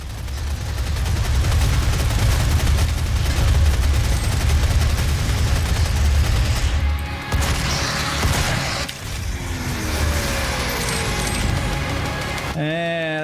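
Rapid automatic gunfire from a weapon in DOOM 2016 roars loudly and steadily for several seconds, then breaks off into mechanical clanks and whirring as the gun winds down.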